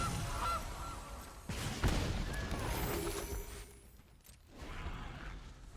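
A goose honk from the Gilded Goose card in the digital card game MTG Arena rises briefly among busy game effects and clatter, moderately loud and close.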